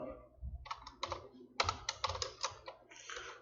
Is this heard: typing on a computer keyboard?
yes